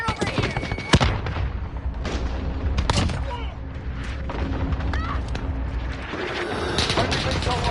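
A Call of Duty cluster strike sets off a rapid string of sharp blasts and booms amid gunfire, loud and close, with a few heavier impacts standing out over dense battle noise.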